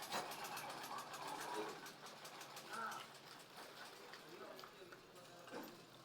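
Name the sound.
sewing machine stitching a salwar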